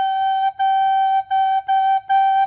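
A recorder plays a G note five times in a row, each a clear, steady whistle-like tone separated by brief gaps, close and loud with no talking.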